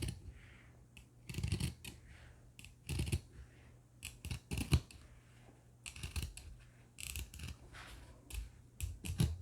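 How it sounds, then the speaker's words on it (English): Scissors snip through two layers of fabric in repeated crisp cuts, arriving in uneven clusters close by with quiet pauses between them. "You're going to cut through both of the pieces of fabric."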